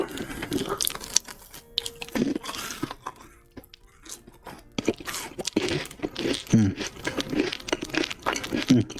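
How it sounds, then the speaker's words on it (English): Crunchy-edged, chewy-centred cookies are chewed close up, with repeated crunching bites and mouth noises in irregular bursts, mixed with speech. "These cookies, they're crunchy on the outside, but when you get to the center, they're just chewy enough"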